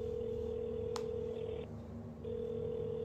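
A telephone dial tone hums steadily, briefly interrupted near the middle, with a short click as a number is dialed to call mom; no voices.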